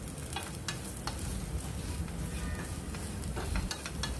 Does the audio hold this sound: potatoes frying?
yes